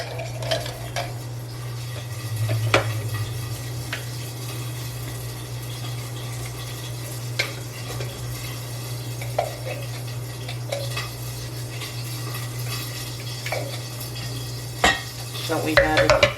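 Onions frying in a pan while being stirred, a soft steady sizzle under an ongoing low hum, broken by scattered clinks and scrapes of a utensil against the pan.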